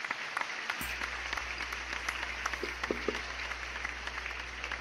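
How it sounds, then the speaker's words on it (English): Audience applause at a fan show, a steady patter of many hands clapping that fills the space without pause. "Big round of applause for him."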